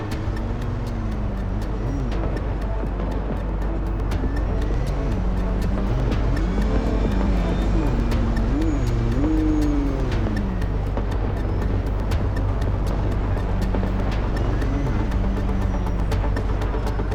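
A car in the video game MindsEye drives continuously with a loud engine drone, its pitch rising and falling as it accelerates and slows, while faint ticking background effects run throughout.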